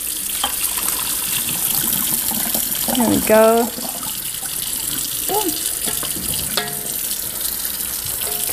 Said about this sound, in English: Let me start running cold water down my drain so the pipes don't break.